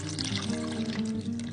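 Potato water poured through a sieve into a quart mason jar for homemade poison ivy soap, a steady close splashing trickle running for a second or two.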